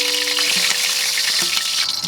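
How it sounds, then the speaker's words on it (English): Rabbit pieces frying in a camp pan with blood, duck fat and bacon fat, a steady loud sizzle and crackle running throughout, with occasional stirring scrapes. "So in the pan now we've got that nice mixture of the blood that's come out of the rabbit, the duck fat and the bacon fat."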